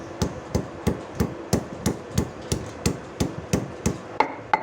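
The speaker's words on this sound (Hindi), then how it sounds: "अपने अदरक लहसुन को पीस लेंगे" Ginger and garlic being pounded into paste for aloo matar, heavy thuds landing in a steady, even rhythm of about fifteen strikes, close and loud with no voices.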